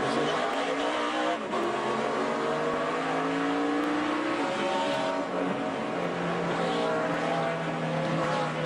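NASCAR race cars roar continuously around the track, engine tones rising and falling as the pack streams past, loud and sustained with crowd-like broadcast ambience beneath.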